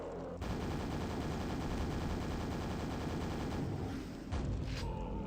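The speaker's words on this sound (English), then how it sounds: "with a super nail gun" Rapid automatic nail fire from the super nail gun in Quake, a dense, steady stream of sharp mechanical shots running without pause for several seconds, loud and close, with a brief break near the end before it resumes.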